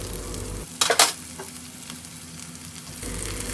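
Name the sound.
stirring boiled moth beans into kantola sabji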